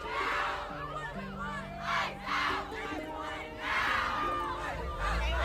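A protesting crowd screaming a chant, loud massed voices rising and falling in rhythmic shouted waves at a distance.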